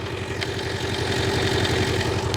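Audi S6 quattro engine idling with a low, steady, even rumble, a tractor-like chugging throb that stays level and close throughout, with no talk over it.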